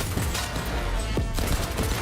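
Shotgun blasts in the action game Cyberpunk 2077, a dense burst of loud, close gunfire with sharp repeated reports layered over busy game sound for about two seconds.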